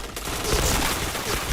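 Rapid bursts of gunfire from a shooter video game crackle loud and dense for a moment, with overlapping shots and no clear pauses.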